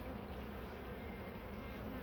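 Honeybees buzzing as they gather pollen, forming a close, continuous drone that stays steady without a break.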